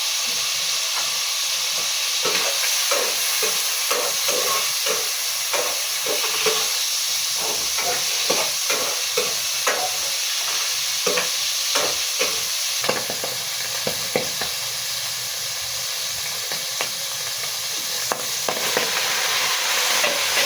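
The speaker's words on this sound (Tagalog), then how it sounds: "nagluluto na ako ng ulam" A Filipino ulam fries in a pan with a loud, steady hiss of sizzling oil and steam. Many quick scraping and clacking stirs run through it, close by and alone.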